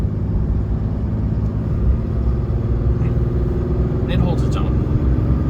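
A 2016 Cummins diesel pickup on 17-inch steel wheels rumbles low and steady under gentle acceleration, heard from inside the cab while someone talks over the engine.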